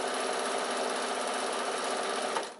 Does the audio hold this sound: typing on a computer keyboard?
no